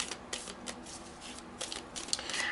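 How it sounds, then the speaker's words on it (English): Overhand shuffling of a deck of thick Oracle cardstock cards, a rapid series of papery slaps and swishes in quick bursts, close and clear with no talking. "Overhand shuffles feels great."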